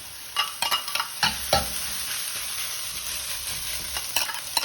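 Leftover rice with egg being stir-fried for vegetable Singapore fried rice, a steady close sizzle with several sharp spatula scrapes and knocks against the pan.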